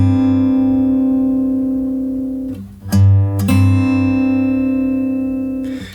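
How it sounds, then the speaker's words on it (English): Single sustained note from the first fret of the B string on an acoustic guitar, ringing steadily, then a brief scrape and re-struck note around the middle before it rings on and fades. "So that is the 1st fret of the 2nd string."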